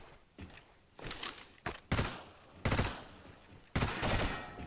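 Gunfire in the World War II shooter Medal of Honor: Heroes, a handful of sharp, loud shots and short bursts spaced irregularly, each cracking out with a brief echoing tail.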